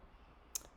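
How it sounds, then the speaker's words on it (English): A single faint, sharp click from a computer mouse in a quiet room, brief and isolated against a low background hum. "Double clicking here."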